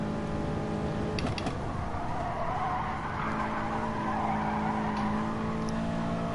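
A race car in Gran Turismo Sport slides over dirt with steady engine drone and gritty skidding noise, a few sharp clicks early on, sustained at moderate level without talk.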